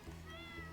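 A cat meows in the Stardew Valley farming game, a short close call layered over steady background game music.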